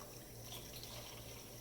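Water from a tap runs in a continuous steady stream, close and moderately loud, as cups are filled for a mango kombucha brew.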